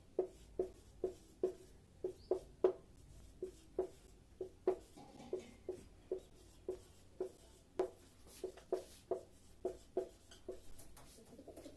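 A marker or pen scratches out answer options on a board in short, rhythmic strokes, steady taps about twice per second, close and clear with no talk.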